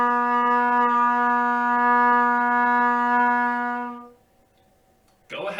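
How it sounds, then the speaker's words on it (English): A trumpet sounds a single sustained C note at lesson pace, steady and near for about four seconds before stopping, followed by a brief noise afterward. "Your C note should sound like this."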